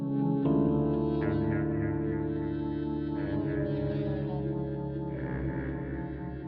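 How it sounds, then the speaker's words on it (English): Distorted static and feedback tones from the Fear & Hunger 2: Termina soundtrack, a steady droning, echoing electronic hum with layered harmonics that shift subtly throughout. "As the music progresses, the static and feedback noises return once more"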